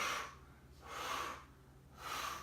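Slow, soft breaths repeat during an exercise session, with two long airy inhales and an exhale between them, quiet and close with no talk.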